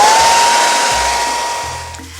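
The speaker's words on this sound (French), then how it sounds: "vous pouvez pour cela tout à fait utiliser un séchoir." A hair dryer blows steadily to dry paint on a painted teddy bear, a close, loud whooshing hum that holds alone and tapers slightly near the end.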